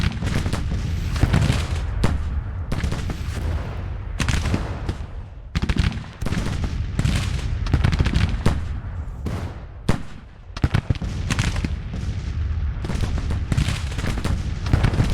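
Long-range musket and artillery fire in Grand Tactician, with Georgia volunteers under fire: repeated crackling volleys and booming reports roll on continuously, dense and loud, with no talk.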